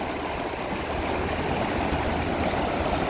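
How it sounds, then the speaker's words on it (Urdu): Continuous rushing of the Sanjawi river, a steady broadband flow of water heard alone at moderate level with no pauses. "دوستو، یہ دریائے سنجاوی ہے"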